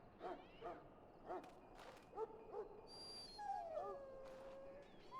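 A dog in the Dragon Age: Origins video game whimpers and yips in short plaintive bursts, followed by a longer whining tone, all heard over a steady background ambience with no speech.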